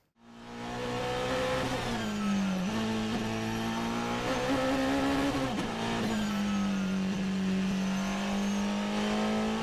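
A car cruises on a long road trip, its engine a steady, droning hum with a slight rise and fall in pitch, heard continuously and fairly loud from inside the vehicle.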